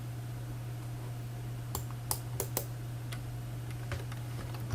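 Keystrokes on a computer keyboard while setting up a DAS Trader platform: a few scattered soft clicks, then a quick cluster of taps, over a steady electrical hum with no talking.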